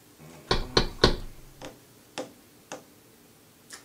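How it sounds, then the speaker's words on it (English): Knocking on a door again, a quick burst of three firm raps followed by several lighter, widely spaced taps that fade, close and distinct in a quiet room. "That was the door again."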